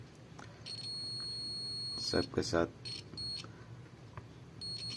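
A multimeter in continuity mode emits short high beeps in a few separate bursts while probing the IGBT of an induction heater that won't switch on, under someone speaking throughout.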